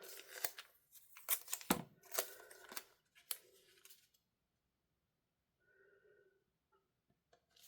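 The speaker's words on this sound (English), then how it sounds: "I am going to cut it down" Scissors snip through washi tape in a series of short, sharp metallic cuts and crinkles up close, then fall quiet with a faint handling rustle near the end.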